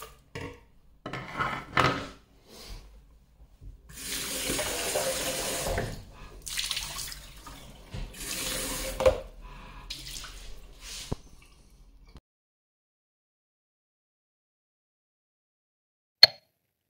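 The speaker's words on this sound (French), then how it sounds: "nettoyez-le en eau claire avant de l'essuyer" Clear tap water runs in bursts to rinse out the container of a wet-and-dry vacuum cleaner, splashing and gurgling nearby for about twelve seconds, then silence broken by one sharp knock.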